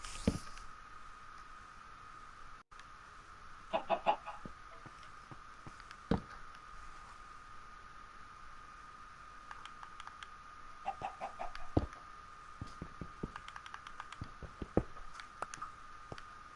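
A cave chicken in Minecraft clucks in short, soft bursts spread over a quiet, steady background, with scattered clicks and patters in between.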